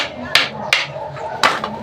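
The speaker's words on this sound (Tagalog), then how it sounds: "Kunting pukpok lang. Pukpok lang ba?" A hammer strikes a 4x3 reducer pipe fitting three times, two quick close taps and then a third after a pause, each bright and percussive with a brief ringing tail.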